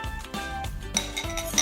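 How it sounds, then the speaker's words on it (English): Pumpkin pie filling with eggs being mixed in a bowl, a utensil knocking and clinking against the sides in quick irregular strokes, close and fairly loud, with no talk. "And then 3 eggs, so it'll rise and it'll be beautiful. And we're gonna mix it up."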